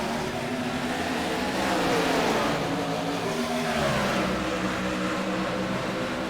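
A field of race cars accelerates off the green flag in an all-star heat race at Charlotte, engines building into a loud overlapping roar whose pitch sweeps upward and swells midway before holding steady.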